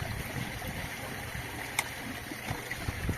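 Steady flowing and gurgling water in a goldfish tank, with a couple of faint clicks and knocks as the pump is switched off.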